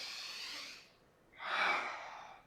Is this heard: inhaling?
yes